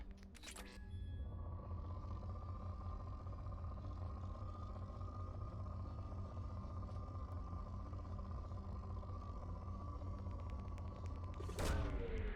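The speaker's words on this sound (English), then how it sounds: "I love just like the kerthunk noise that it makes when you shoot a probe" A probe launches from a ship in Mass Effect 2 with a heavy thudding kerthunk at the start and another near the end, separated by a long, steady, droning hum.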